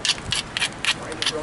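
A flint preform's edge being ground while knapping, a series of short rough rasping strokes in a quick irregular rhythm, close and fairly loud.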